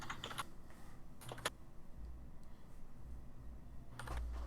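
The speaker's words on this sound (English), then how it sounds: "Okay, I'm typing that in the literal." Computer keyboard typing in short bursts, a few quick clusters of clicks separated by pauses over a low hum, close and faint, no speech.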